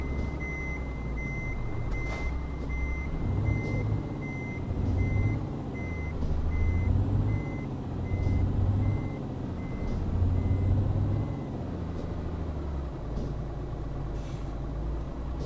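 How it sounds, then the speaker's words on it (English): Loud, steady reversing alarm from a truck in Euro Truck Simulator 2 multiplayer, beeping at a regular pace over a constant engine drone, with a few brief higher tones and the engine swelling and easing several times. "they need to fix that backing up noise"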